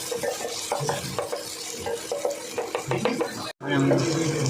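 Onions cooking in a pan for spaghetti, a dense, steady sizzle of frying with repeated stirring scrapes and clinks of a utensil against the pan, close up, broken by one brief gap before the sizzle resumes louder.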